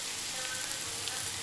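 Potatoes for an aloo curry fry in a pan with turmeric, giving a steady, close hiss of sizzling oil that runs evenly throughout with no talking.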